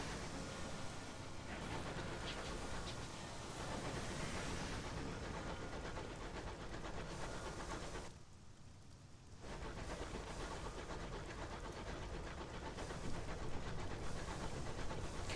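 A locomotive train in the video game Sunless Skies runs with a steady, loud, noisy rumble and hiss, dropping out briefly for about a second before resuming at full strength.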